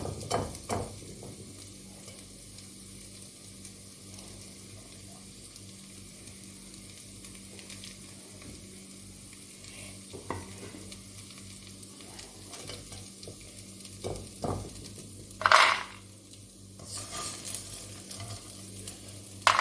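Fox nuts (makhana) roast in a pan, giving a soft, steady sizzle broken by scattered stirring scrapes and a sharper clatter near the end, with no talking.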